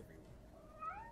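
A cat meows once in the Press X Not To Die video game, a short, faint, rising call over a low background.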